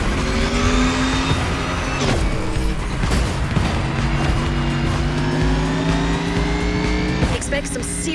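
Race cars in The Crew Motorfest roar and rev hard as they accelerate, engine pitch climbing steadily, with tire noise and a loud continuous mechanical drone throughout.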